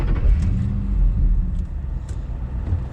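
A 2008 Ford Mustang Shelby GT fires up and settles into a deep, loud, steady engine rumble close by, with faint clicks and rattles over the low drone.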